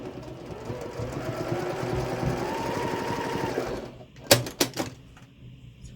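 A sewing machine runs a steady, buzzing 1/8-inch decorative stitch along a zipper bag made from mini-charm precut fabric, then stops with a few clicks and clacks of the mechanism.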